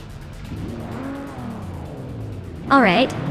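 Race cars roar on the Hungaroring Retro Track in a racing video game as a Lancia and a Mazda start the race, engine tones sweeping up and down through the gears under steady talk, then a sharp high-pitched burst near the end.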